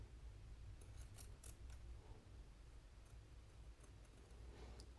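Scissors snipping fabric right up against a blouse collar seam, a series of quiet, close cuts in a steady rhythm over a low room hum.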